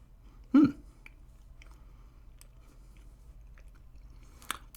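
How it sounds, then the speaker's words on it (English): A homemade butter tart with a firm, robust pastry shell takes one sharp, close bite, followed by faint, quiet chewing in an otherwise still room. "I guess just take a big bite out of it."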